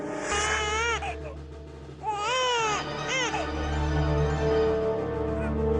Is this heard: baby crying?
yes